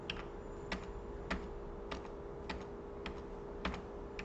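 Arrow key pressed repeatedly on a computer keyboard: about seven light, evenly spaced clicks, each a short sharp tap over a steady low hum of room noise, with no voices.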